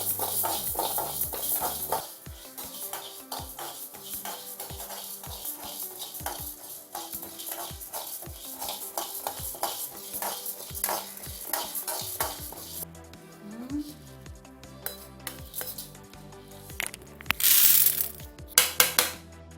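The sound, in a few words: dry roasting toor dal in a pan, stirring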